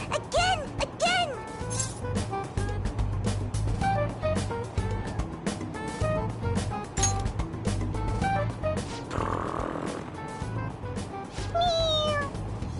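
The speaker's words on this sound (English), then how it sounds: "it's just a toy. It meows when you press on its head" A toy cat meows repeatedly as its head is pressed, giving a string of short, bright meows close up over constant rumbling and background chatter on a moving train.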